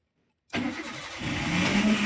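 A car engine starting during a driving lesson, with silence and then a sudden crank that catches and settles into a steady, close, moderately loud idle that builds a little toward the end.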